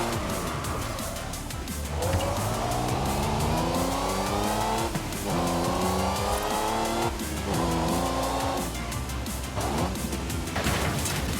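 A car racing in Forza Horizon 5 driven with paddle shifts, its engine climbing in pitch through several gears with sharp drops at each shift and some tire squeal, loud and continuous.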